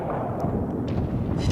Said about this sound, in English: I'm firing explosives.